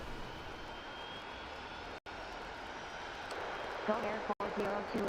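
Video-game airport simulation with jet airliner engines, including 747s. The sound is a steady, broad roar under light background chatter, with two brief dropouts and a few faint chirps and beeps near the end.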